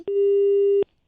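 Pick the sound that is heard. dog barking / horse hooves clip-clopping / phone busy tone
phone busy tone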